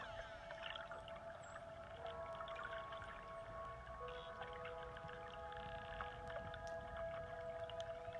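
Faint dolphin whistles and clicks in a calm meditation recording, with steady tonal calls over a soft watery background hum and no voices.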